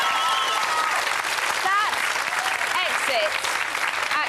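A Big Brother eviction crowd roars with sustained cheering, whistles and applause, loud and continuous throughout, with a voice briefly heard over it.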